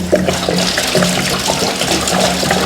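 Water sloshes and gushes steadily inside a rusty gas tank being flushed out, loud and close, with a continuous watery rush and some rattling churn throughout.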